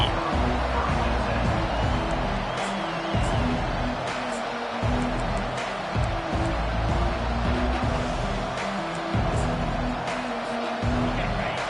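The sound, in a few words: football stadium crowd cheering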